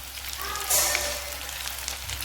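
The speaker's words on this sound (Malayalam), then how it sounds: "തിരിച്ചു മറിച്ചു വിട്ടിട്ട് ഇതൊന്ന് ഫ്രൈ ആക്കി എടുക്കാം" Thread chicken, turned over partway through, frying and sizzling in hot oil in a pan as its first side turns golden brown, a steady close hiss with a brief louder flare.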